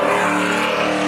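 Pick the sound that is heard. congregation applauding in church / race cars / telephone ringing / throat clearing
race cars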